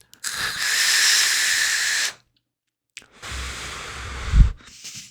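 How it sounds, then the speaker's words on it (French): Two long, steady hissing draws from an Innokin Coolfire PZPulse vape running at 69 watts, each lasting a couple of seconds, close up, with a short silent gap and a soft breathy exhale at the end. "On a une bonne productivité de vapeur."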